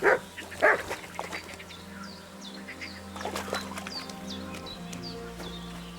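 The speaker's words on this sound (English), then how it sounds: "Good dog, Mutt." Mutt the dog in Kingdom Come: Deliverance II gives two loud barks up close, followed by fainter rustling and chirping birds in the background.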